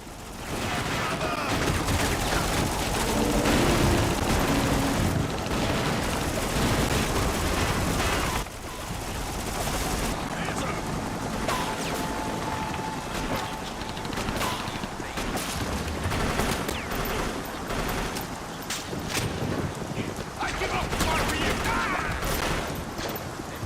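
Dense, continuous bursts of video game gunfire and rapid automatic shots fill the scene while playing on a Steam Deck, loud and sustained with brief lulls, a voice occasionally talking over it.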